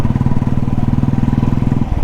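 Royal Enfield Classic 350 Bullet engine running close by, a steady, deep, rhythmic thumping idle with even low pulses that hold throughout, then change slightly at the end.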